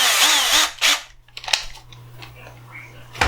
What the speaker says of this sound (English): I'll get it drilled apart and show you.